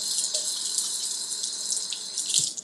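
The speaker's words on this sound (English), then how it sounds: "let me wash my hands" Hands being washed under a running kitchen tap during a home cooking session, a steady hiss of flowing water with small splashy shifts throughout, close and alone.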